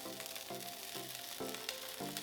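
Chorizo frying in a pan gives a constant dense sizzle, close and steady, with faint tonal hum pulses repeating underneath throughout.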